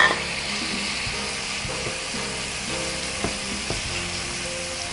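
Onions and mushrooms fry in a pan with a loud, steady sizzle, broken by a few soft knocks and stirs as the pieces are moved around.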